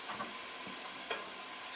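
Sliced large onion frying in oil, a soft steady sizzle with a couple of faint stirring scrapes, low and even throughout.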